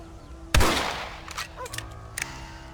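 A single sharp rifle shot in Red Dead Redemption Remastered, close and loud, followed by a decaying echo and a few faint metallic clicks.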